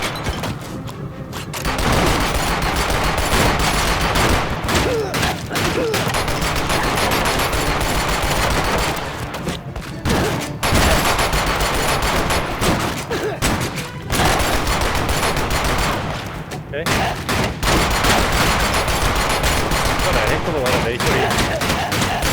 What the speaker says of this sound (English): so I guess he's got some sort of a scary gun